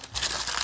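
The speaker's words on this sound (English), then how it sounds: "Let's try cutting it and crumpling it." Cut-up material is crumpled by hand in a brief, close burst of crinkling and crushing.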